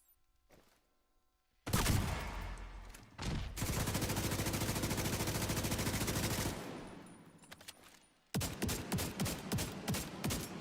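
Gunfire in The Division 2: a sharp shot, then a long sustained automatic burst lasting several seconds, followed by a rapid string of loud individual shots, all close and dominant with no talk over it.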